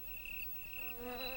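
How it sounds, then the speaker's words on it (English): Crickets chirp in the bushes in a continuous high trill, joined partway through by a buzzing insect drone close by. "There were crickets in the bushes, small insects that you couldn't see unless you really looked hard."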